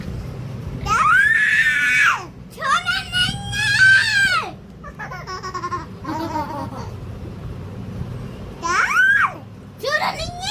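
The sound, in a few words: little girl screaming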